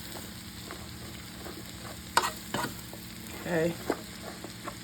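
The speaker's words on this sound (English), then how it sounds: "I'm going to mix it around and let it cook down some" Southern fried cabbage sizzling in a pan while being stirred, a steady close crackle broken by scraping and clattering utensil strokes, with a brief spoken word.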